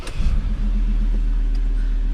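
Four-wheel-drive car engine running in 4 high, a steady low rumble close by with a brief louder surge at the start, then an even drone.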